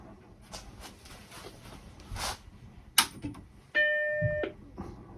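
A compact Macintosh 512k powers on with a click, then its startup chime rings out as a single sustained bright tone for about a second over low room hum.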